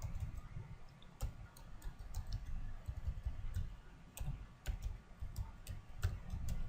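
A computer keyboard clicks quietly as someone types in short, irregular bursts of sharp keystrokes over a low background hum, with no talking.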